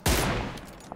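A gunshot goes off in the video game PUBG Lite, one sharp loud report that decays quickly into a rumbling echo, with faint small clicks near the end.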